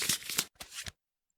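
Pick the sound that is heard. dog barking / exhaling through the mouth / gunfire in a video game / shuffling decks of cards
shuffling decks of cards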